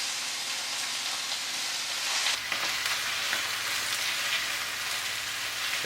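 Kale and collard greens sizzle steadily in a hot pan as they cook down, a continuous close crackling hiss with no voices.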